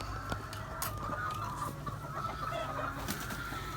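Older chicks from last season's hatch, kept on a farm coop, cluck and murmur continuously in a busy flock, with scattered nearby peeps over steady low background hum.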